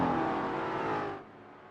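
GT4 race cars in iRacing at New Hampshire, including an Interstellar SRV number 400 and Mustangs, roar with a dense, steady engine drone that drops away abruptly near the end, leaving a quieter hum.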